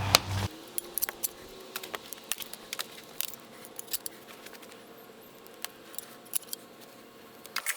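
Loppers cutting through a root in soil, heard as a scattered series of sharp snapping clicks and crackles close by, irregular and fairly quiet, with no talk.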